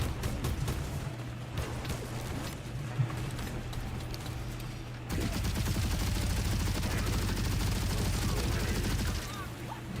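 Sustained automatic gunfire while shooting down enemies in a video game, a loud, continuous rattle of rapid shots that grows denser partway through, with a steady low hum underneath.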